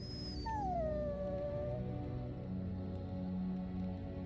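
A dog in the fantasy video game Dragon Age: Origins lets out a single drawn-out whining howl that slides downward and fades, over a steady game background hum.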